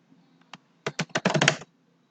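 A burst of computer keyboard keystrokes, about eight quick clicks typing a name into accounting software, close and crisp, with a single tap before and silence around them.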